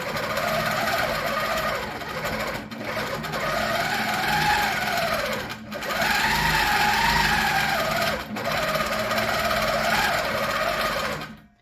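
A sewing machine runs loud and steady during free-motion quilting of a swirl chain on a quilt, its motor droning with brief pauses and dips in speed as the stitching continues alone.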